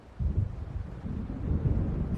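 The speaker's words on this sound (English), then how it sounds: "It seems there's a storm coming." In the video game Alan Wake, a low, rumbling roll of thunder from an approaching storm grows steadily over a couple of seconds, deep and moderately loud, with no voices.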